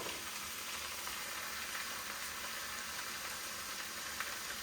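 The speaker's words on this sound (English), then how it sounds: "I'm throwing in 2 8-ounce cans here of tomato sauce." Canned tomato sauce for a chicken tamale pie hits a hot pan, giving a dense, even sizzle and frying hiss that holds steady throughout, close and fairly loud, with no voices.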